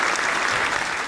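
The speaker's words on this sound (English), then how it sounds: "you get the applause as well" A brief burst of audience applause at a live show: continuous dense clapping, moderately loud, with no voices standing out.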